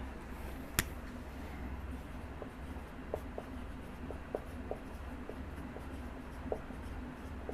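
Chalk or a marker writes on a board during a classroom lecture, making faint scratching strokes with scattered light taps against a steady room hum. It sounds quiet and somewhat distant.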